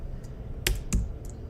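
Several quick keystrokes on a computer keyboard, loosely spaced clicks close by against a quiet room background.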